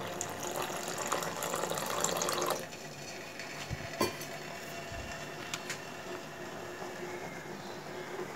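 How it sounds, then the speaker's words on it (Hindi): Milk is poured into tea at home and makes a soft, steady trickling stream for about two seconds. It then stops, leaving a quiet room with a few faint clinks. "अब मैं इसमें दूध डालूँ"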